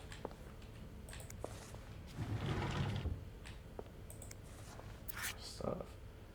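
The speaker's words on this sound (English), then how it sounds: "Close the door." A door in the video game This Bed We Made slides and clicks shut with a soft mechanical rumble in the middle, surrounded by faint clicks and quiet ambience.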